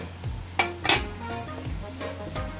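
Cinnamon and nutmeg flavoured dumplings frying in hot oil, with a steady close sizzle broken by several metallic clinks and scrapes of a utensil against the pan.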